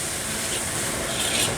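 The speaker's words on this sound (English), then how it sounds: "the rice is starting to catch on the bottom, so I need to get moving and stir this around" Fried rice being stirred in a hot pan as it starts to catch on the bottom, a steady close sizzling hiss with soft scraping swells and no voices.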